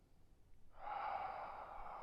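One long, deep breath, drawn in and released slowly and audibly, close and fairly soft, taken during a stretching exercise.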